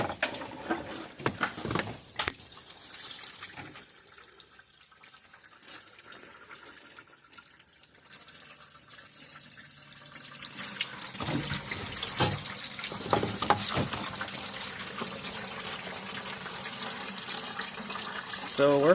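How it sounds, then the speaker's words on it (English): Water flushing through the cooling system of a 2015 Chevy Silverado with a failed radiator and oil-contaminated coolant, a hissing running-water rush that fades quieter midway and then swells louder and steadier toward the end, with talk present. "So we're flushing it."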